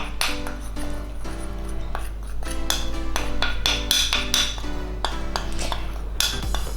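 A spoon clinks and scrapes against a bowl while mixing a paste of turmeric and coconut oil, with steady rapid taps and scraping throughout, close and moderately loud.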